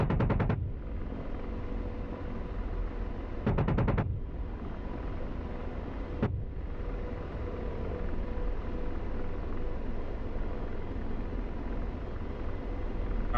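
An AH-64D Apache's gun fires in the DCS combat flight game: two short rattling bursts and a single shot ring out over a steady, loud engine and rotor rumble.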